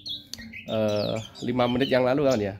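A seven-month-old white-crowned thrush (anis kembang) sings in rich, loud, close phrases of rolling, warbling notes, broken by a short pause. Someone speaks briefly at the start.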